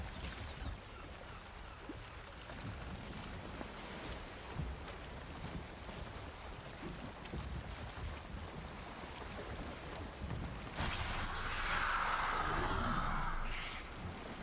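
Wind and water rush steadily around a sailing boat in the game Valheim, a broad continuous wash of waves and breeze that swells louder toward the end, with no talk.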